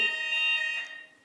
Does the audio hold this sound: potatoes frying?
no